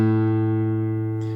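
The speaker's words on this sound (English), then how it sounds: "followed by a single A note played on the open 5th string" A single open A note rings out on the fifth string of a fingerstyle acoustic guitar, sustaining clearly and decaying slowly on its own with no talking.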